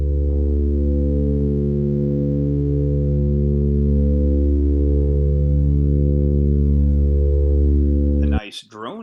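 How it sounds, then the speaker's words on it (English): A detuned sawtooth wavetable synth drone holds a loud, steady buzzing chord for about eight seconds with slow beating between the voices, then cuts off abruptly into a brief warbling tail. "A nice droney wavetable sound."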